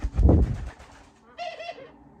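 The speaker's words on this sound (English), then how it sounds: "I have a bird in the house who likes to sing" Prince, a pet bird in a house, gives a few soft, cooing, warbling notes after a low muffled thump, faint and close, in a quiet room.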